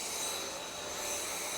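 A cordless vacuum cleaner runs steadily on a floor, a loud continuous whirring hiss with a high motor whine, alone with no voices.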